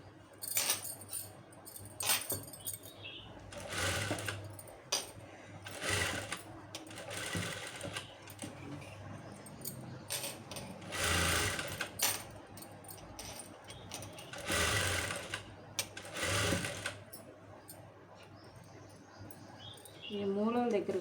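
A sewing machine stitches a lined blouse in repeated bursts of fast mechanical whirring separated by short pauses, close and loud, with quiet talk between runs.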